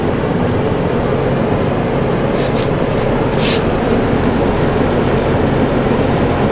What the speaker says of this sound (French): là, vous entendez bien, c'est la pompe à chaleur.